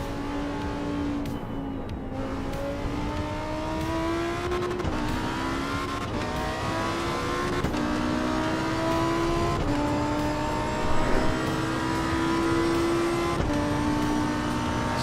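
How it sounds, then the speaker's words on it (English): Lamborghini Revuelto V12 engine lapping the Nordschleife in a racing video game, loud and close, revving up through rising pitch sweeps with repeated gear shifts and sharp drops between them. "We're driving the Lamborghini in Nordschleife with the Lamborghini Revuelto steering wheel."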